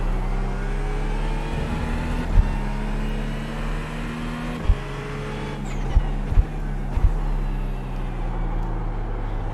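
Simulated GT3 race car engine drones steadily on pit road at a Norwegian road course, with sustained harmonic engine tones shifting pitch and a few sharp clicks or shifts punctuating the loud, continuous drone.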